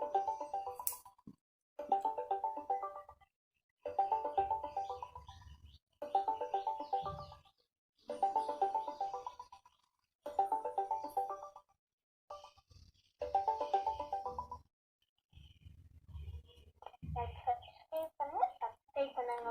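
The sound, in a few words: outgoing voice call ringing on laptop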